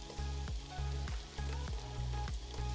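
Meat frying in a pan with paprika and tomato paste, a steady close sizzle broken by regular scraping stirs about every half second, with no talking.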